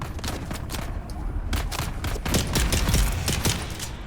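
Rapid gunfire in Dune Awakening, a dense fusillade of sharp shots crackling over a rumbling background, close and loud throughout the few seconds.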